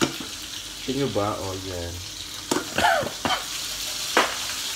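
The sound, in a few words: chicken nuggets frying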